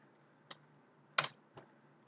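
Typing on a computer keyboard, a few sparse, close key clicks spaced irregularly against a quiet background, with no talking.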